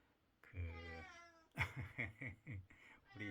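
A pet cat named Chukbok meows in the early hours: one long, drawn-out meow, then a quick run of shorter, strained cries, close and clear in a quiet room.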